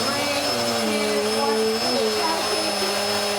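A hoover drones continuously while a young man named Jacob does his vacuuming at home, a loud steady whine with a slight pitch wobble, near and unbroken.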